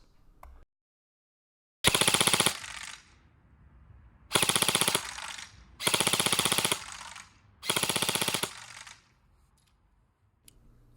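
A Krytac Trident MK II PDW-M airsoft rifle fires on full auto in four short controlled bursts, each a rapid, sharp mechanical rattle lasting about a second, separated by brief pauses of near quiet.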